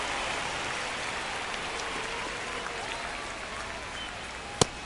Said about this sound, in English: the field's not going to be able to hold up if the rain gets any worse than this